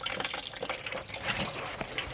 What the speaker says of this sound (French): Voilà, chasse d'eau, malheureusement.